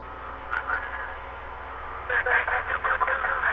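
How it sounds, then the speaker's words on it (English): A telephone rings repeatedly in Fatal Frame 4, a steady mid-pitched electronic trill that pulses in bursts with a low ambient drone underneath, with no talking. "That phone ringing is fucking driving me insane."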